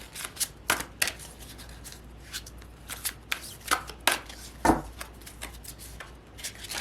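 A Fairy Tarot deck by Radley Valentine is shuffled and cards are drawn, giving close, crisp riffles and sharp card snaps in an uneven rhythm, with no talking.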